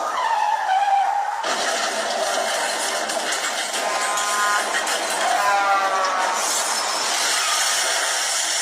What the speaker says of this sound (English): I just had a car crash.